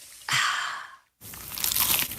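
A crunchy, cheesy pizza slice is bitten in two crisp crunching bursts separated by a short silence, close and loud.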